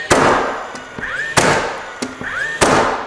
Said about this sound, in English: I could show you this as I'm shooting these nails.